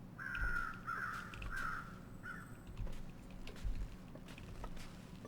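Crows caw in The Long Dark video game, three or four hoarse calls in quick succession followed by a fainter one, over a low windy outdoor ambience with soft patter.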